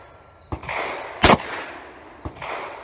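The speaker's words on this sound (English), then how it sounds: "Now we're going to shoot the Polywad load." A shotgun with a tight choke fires a Polywad SpredR shell load outdoors: one sharp, loud blast with a short trailing echo, framed by two softer thumps before and after.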